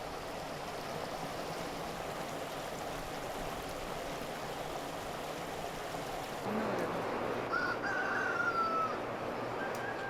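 Chickens at an open outdoor welfare laying-hen farm in Hwasun, South Jeolla, cluck softly over a steady background hiss, then a rooster's crow rises clearly near the end, moderately loud and close.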